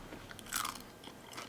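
Crisp crunching bites on fried Maine redfish fins, close and dry, with a loud burst of crackling near the middle and scattered smaller crunches around it, no talk.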